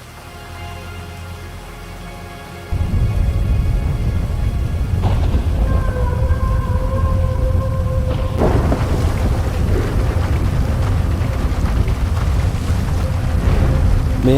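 Heavy storm at sea in GTA V: a steady roar of wind and pouring rain, then from about the third second a much louder surge with sustained rumbling thunder and crashing water, dense and continuous to the end.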